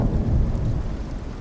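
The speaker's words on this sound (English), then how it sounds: "So I'm not worried about the flash storm because I got, you know, stone rooftops on all my buildings." A flash storm in the survival game Icarus, a heavy low rumble of thunder with rain rolling continuously, loud and full at first and easing slightly toward the end.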